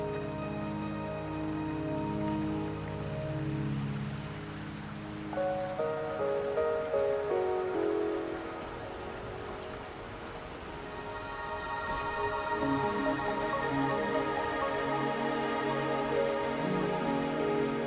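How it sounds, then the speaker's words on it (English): Rain falls in the Wuthering Waves video game as a continuous patter under a sustained, evolving musical score, with no talking. "Don't worry, the rain won't last much longer."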